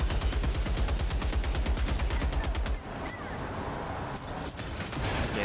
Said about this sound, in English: Oh my god, that's a lot of rockets.